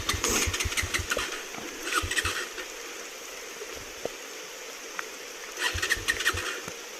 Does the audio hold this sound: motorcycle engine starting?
yes